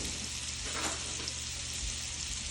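Fresh fish seasoned with pepper and a little salt fries steadily in a pan, a continuous close sizzle and crackle with no talking.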